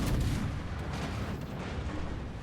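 Secondary guns of the warship Friedrich der Grosse firing in the World of Warships video game, a dense continuous rumble of booming artillery blasts, loud and sustained.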